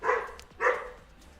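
Dogs bark at home, two sharp close barks about half a second apart with no other sound.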